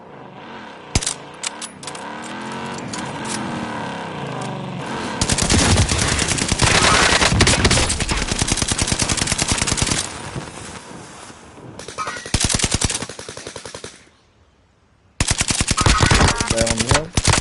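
Rapid bursts of automatic gunfire in a first-person shooter video game, loud and dense, stopping and starting in long volleys with short pauses between them and a brief near-silent gap before the firing resumes.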